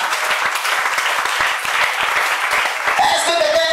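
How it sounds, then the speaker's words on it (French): A church congregation claps and cheers in loud, sustained applause, with voices mixed into the dense crowd noise throughout. "Acclame très fort le Seigneur"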